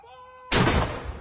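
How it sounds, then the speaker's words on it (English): A single artillery gun of a salute for the Queen fires one sharp, loud boom that rolls off into a decaying rumble, following a faint tonal hum. "Artillery salutes booming out across the United Kingdom."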